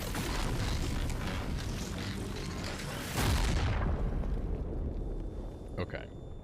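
Giant bomb blast in the Expedition 33 video game, a loud roaring explosion that swells over a few seconds and then decays into a rumbling tail, with faint clicks afterward.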